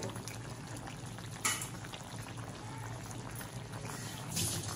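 Fish curry in a pot coming up to a boil after a little water is added, a steady low bubbling simmer with soft sizzle, brief louder stirs or splashes near the start and end, no talking.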